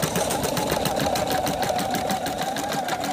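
A Viking Topaz 30 sewing and embroidery machine stitches in a fast, even mechanical pulse with a steady whirring hum, loud and close, running alone without voices.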